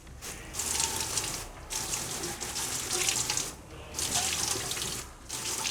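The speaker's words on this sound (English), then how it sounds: "I'm gonna wash the plate." Tap water runs and splashes while a plate is washed in a sink, the flow cutting out briefly several times between longer steady bursts, close and fairly loud.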